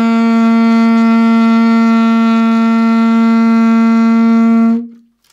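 A single long, steady saxophone note G held for nearly five seconds, loud and close with a bright, buzzy reed tone, then stopping cleanly into silence.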